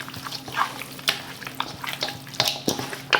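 Marinated pork chops being tossed and mixed with herbs, lemon and oregano, giving wet squelching, slapping and sloshing sounds in irregular bursts, close by.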